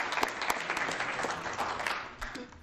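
Audience applause for three poet laureates at a parks and recreation commission meeting, steady clapping from a room of people for a few seconds, fading slightly at the end.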